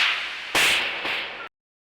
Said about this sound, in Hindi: मारिए थप्पड़